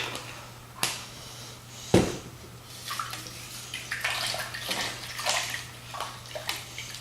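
Water sloshing and splashing in a container as Murphy's oil soap is mixed in for washing a Martini Henry Mk IV rifle, with irregular close swishes and a few sharp knocks.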